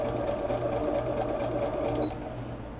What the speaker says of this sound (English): I'm going to stitch that on there